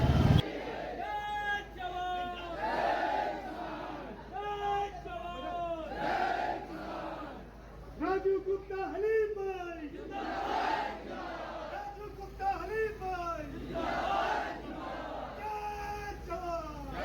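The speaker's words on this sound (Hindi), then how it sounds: "अवैध कब्जों को लेकर किसानों का ज़बरदस्त प्रदर्शन नगर निगम लखनऊ के परिसर में" Farmers protest at the Lucknow municipal corporation, a crowd of voices shouting and chanting slogans in repeated rhythmic bursts, steady and moderately distant throughout.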